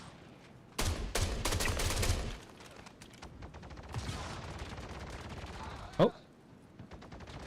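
Bursts of rapid automatic gunfire in the space game Star Citizen, a loud dense volley followed by a quieter burst and a single sharp shot, with a voice briefly speaking.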